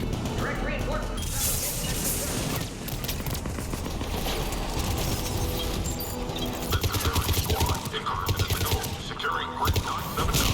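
Sustained gunfire in the video game Mass Effect 3, dense rapid bursts and fusillades layered over one another for the whole stretch, loud and close, with combat voices and radio chatter mixed in.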